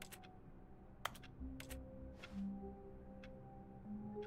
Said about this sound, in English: it sounds like I'm clicking buttons